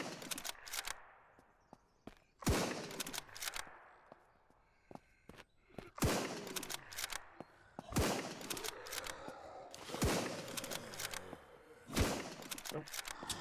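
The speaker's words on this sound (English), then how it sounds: "Gonna snipe this guy." Sniper rifle shots ring out in the zombie survival game SurrounDead, a series of sharp cracks spaced a second or two apart, each with a short decaying tail, with faint footsteps and a quiet voice between them.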